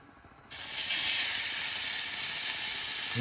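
Beef steaks hit hot lard in a pan with a sudden loud sizzle that starts abruptly and holds steady and close, with no talking.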